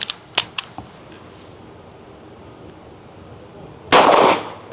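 Pistol shots at an 8-inch steel gong on an outdoor range, a few sharp distant cracks spaced apart early on, then one loud close blast near the end.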